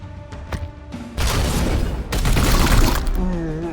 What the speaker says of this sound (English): Now we should do the support fire.